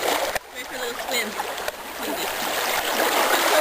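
Water splashing and churning close by as someone goes for a swim outdoors, a continuous rough wash of sloshing with a couple of sharper splashes.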